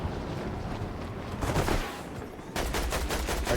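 Gunfire in Fortnite, a video game: a dense, loud burst of rapid shots with a brief lull, then another sustained volley of sharp cracks.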